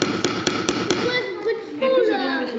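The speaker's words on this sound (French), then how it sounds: "Il ne faut pas avoir peur de taper un petit peu." A hammer gives four or five sharp, evenly spaced taps up close, then a person speaks over quieter handling sounds.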